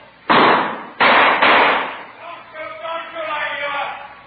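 Gunshot sound effects in a vintage radio police drama, three sharp, loud bangs in quick succession followed by a voice speaking.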